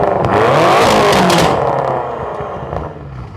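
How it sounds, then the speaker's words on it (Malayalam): A tuned BMW M5 revs hard, its exhaust note rising to a loud, close roar and then falling back to a rumbling idle as the engine settles. "ഇനി എക്സോസ് നോട്ട് എങ്ങനെയുണ്ടെന്നുള്ളത് കേൾപ്പിക്കാം,"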